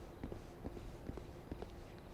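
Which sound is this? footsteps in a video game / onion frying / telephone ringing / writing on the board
footsteps in a video game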